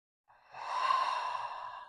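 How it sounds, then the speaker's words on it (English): A single long, deep breath taken during a yoga practice in humble warrior pose, a smooth airy sigh swelling and holding steady near the listener, alone without talk. "Deep breath."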